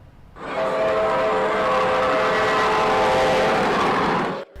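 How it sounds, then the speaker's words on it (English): Miniature trains running on the Enchanted Railroad at the Morton Arboretum make a steady, loud whirring rumble. A sustained whistle-like tone sits on top, starting and stopping abruptly over about four seconds, with no voices. "With nearly 500 feet of track and 16 miniature trains, the Morton Arboretum's Enchanted Railroad stands at the perfect height"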